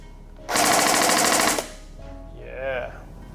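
A Steyr AUG A1 carbine gel blaster with a polymer body and metal front fires a sustained full-auto burst of about a second, loud and rapid, followed by a short bit of talk.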